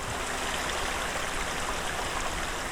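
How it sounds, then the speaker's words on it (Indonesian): A waterfall and stream below a ravine on Mount Sunda rush in a dense, steady roar of water, with no other sounds. "Jadi air terjun itu ke bawahnya."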